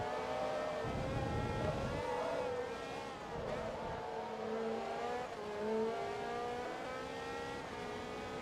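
A Porsche race car in Forza Motorsport 2 screams along with a high, whining engine note that rises and falls through gear shifts, steady and continuous.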